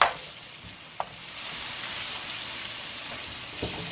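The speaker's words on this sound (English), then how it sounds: "So now we're adding the ragu sauce." Ragu sauce from a jar poured into a hot pan, setting off a steady, fairly quiet sizzle and bubbling fry with a few soft clinks of utensils, no voices.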